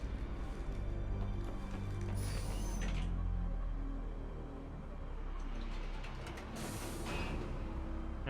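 Elevator moving in Mass Effect 3: a steady low mechanical rumble with creaking and whining machinery, a sustained drone holding level throughout with brief brighter swells.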